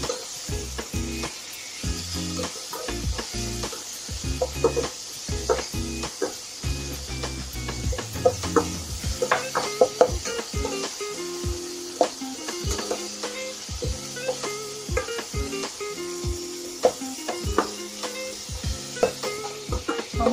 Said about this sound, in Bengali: টমেটো পেঁয়াজে ভাজা ভাজা হয়ে গেছে